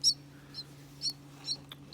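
A baby bird chirping indoors, five or six short, high, thin peeps spaced about half a second apart over a low steady hum.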